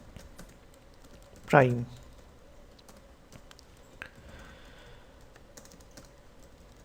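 Soft, sparse clicks of a computer keyboard while C code is typed, faint and scattered, with a short spoken word over them.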